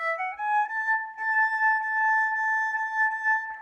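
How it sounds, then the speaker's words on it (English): A single sustained violin note, A played with the third finger on the E string, bowed cleanly and held steady for a few seconds, with a slight slide up at the start. "our third finger on our E should sound like this"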